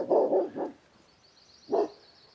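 Jax, a pet dog at a lodge in rural British Columbia, barks twice in a quick pair, goes quiet, then gives one more bark, close and fairly loud with no talk.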